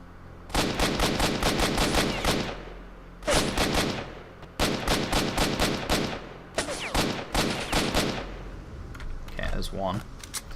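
Automatic gunfire in the shooter game S.T.A.L.K.E.R. Shadow of Chernobyl, loud sustained bursts of rapid shots separated by short pauses, with a brief voice near the end.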